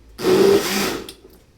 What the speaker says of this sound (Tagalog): i-blend ko na siya